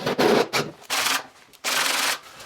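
A power drill with a hole-cutting bit bores into a media wall for electrical cables, with three or four loud bursts of rough, grinding cutting separated by short pauses.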